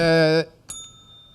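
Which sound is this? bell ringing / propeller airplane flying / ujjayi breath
bell ringing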